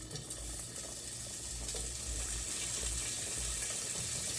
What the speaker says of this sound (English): I'm going to cook the sausage with the peppers